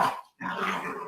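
Dogs bark and growl close by, a short loud outburst, a brief pause, then a longer, rougher stretch of barking.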